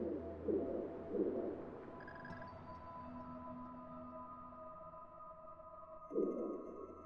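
Pigeons in Assassin's Creed Rogue give soft repeated coos, two close together at the start and another near the end, over a faint ambient game hum with a few thin tonal sounds between.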